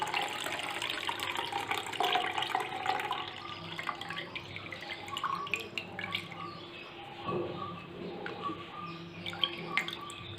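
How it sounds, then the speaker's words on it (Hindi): Full cream milk pours steadily into a mixer jar, a continuous liquid splash and trickle lasting throughout, fairly close and moderately loud with faint kitchen background. "आइए अब हम इसमें डालते हैं ये दूध, फुल क्रीम दूध 2 कप जो हमने लिया था।"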